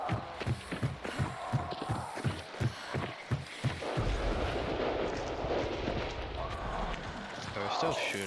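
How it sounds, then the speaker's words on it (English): Gunfire in the shooter video game ARC Raiders: a run of heavy, evenly spaced booming shots, then a dense rumbling barrage of distant fire under a person talking. "We're still shooting, so I think there's at least one more person."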